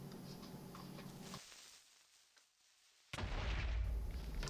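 A sharp, loud blast bursts in after a stretch of quiet, a single Minecraft creeper explosion with a crackling, broadband roar.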